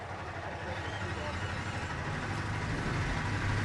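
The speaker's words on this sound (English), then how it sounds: "Drivers, start your engines." Several race car engines start and idle together in a NASCAR Xfinity racing sim game at Martinsville, a steady, dense low rumble that builds slightly, with an announcer voice faintly underneath.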